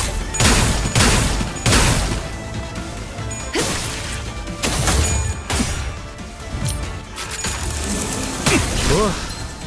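Rapid bursts of gunfire and impact cracks in the video game Limbus Company, several loud volleys spread across the stretch with whooshing and smashing hits between them, layered over game effects.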